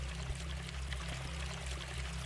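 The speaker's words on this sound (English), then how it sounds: "The water level is slowly rising." Water in the video game Planet RIX-13 slowly rising, heard as a steady, quiet pouring and trickling wash over a low constant hum, with no speech.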